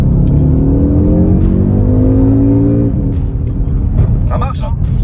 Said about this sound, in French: Allez, fais une petite accélération.